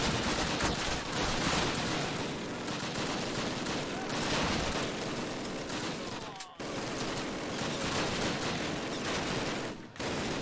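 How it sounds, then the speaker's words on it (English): Sustained friendly machine gun fire in a Call of Duty battle, a dense continuous fusillade of overlapping bursts filling the scene, loud and unbroken apart from two brief dips. "Those are friendly machine guns, which is good."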